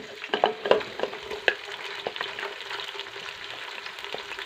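Onions sizzle and fry in hot oil with a cinnamon stick and black cardamom, with some stirring scrapes and clinks near the start, then a steady moderate sizzle.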